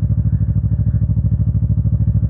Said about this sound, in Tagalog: Ito naman po si Octavia, ang aking 2019 CF Moto 400 NK,